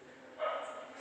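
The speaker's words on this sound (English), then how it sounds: "I don't know why dogs are barking whenever I'm recording the videos" A brief, fairly faint bark from dogs outdoors, a single muffled burst rising and fading within a second against background noise.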